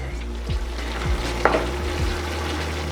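Picadillo of ground beef with tomato sauce and chili powder sizzles steadily in a pan, with a low hum underneath and a few soft scraping stirs and one sharp clink over the frying.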